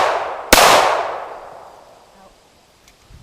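One loud, close gunshot from an AR-15 rifle or 1911 pistol fired outdoors during shooting practice, its crack trailing off into a long echo that dies away over a couple of seconds.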